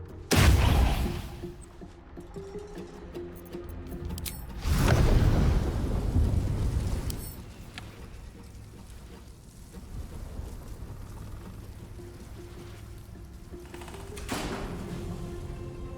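Lightning spells in Baldur's Gate 3 crack into booming thunder, with two heavy rumbling bursts and smaller crackles between, loud against a low game ambience and no talking.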